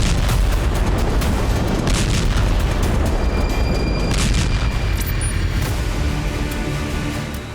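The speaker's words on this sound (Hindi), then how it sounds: "ये राफा में ग्राउंड ऑपरेशन के लिए पहुंचे इजरायली टैंक हैं जो राफा के कई इलाकों पर एक साथ गोलाबारी कर रहे हैं" Heavy artillery fire from Israeli tanks shelling Rafah, a continuous loud rumble of booms and blasts that rolls on for the whole stretch before easing slightly at the end.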